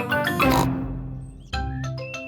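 A cartoon pig from Peppa Pig oinks in two bursts of voiced snorts, close and clear, with a short gap between them and no other talk.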